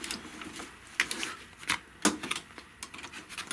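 An embroidery machine stitching the tack-down on a paisley belt bag, a fast, steady mechanical clatter close by, with louder irregular knocks every second or so against a constant whir.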